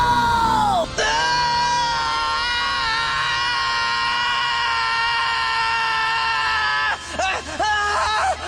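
Asta, the Black Clover anime character, lets out a loud, sustained yell lasting several seconds, with strained, harsh tones that break into shorter shouts at the end.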